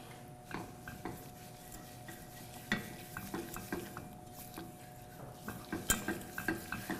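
Sugar for chocolate popcorn melts and bubbles in a pan, a low, steady simmer with soft stirring scrapes and light clinks of a utensil against the pan, close and quiet.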